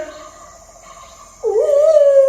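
A human voice imitates a wolf or fox howl. It begins with a thin, wavering tone, then swells into a long, loud, sustained howl that rises and holds steady, with no other sound around it.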